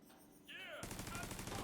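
Turret gunfire in the video game The Division 2, a sudden burst of rapid automatic shots cutting in after a brief electronic whine, dense and loud to the end.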